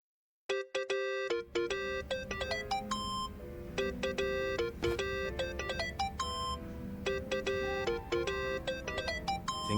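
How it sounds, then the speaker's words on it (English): A phone ringtone in the video game Yakuza: Like a Dragon plays as a bright, rhythmic electronic melody of repeating beeping tones, loud and continuous, with no voices over it. "Think that's your phone, man."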